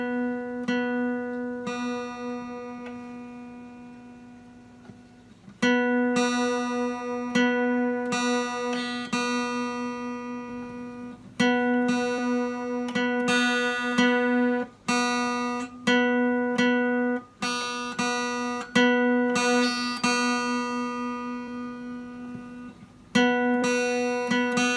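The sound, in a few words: guitar string being tuned, high E string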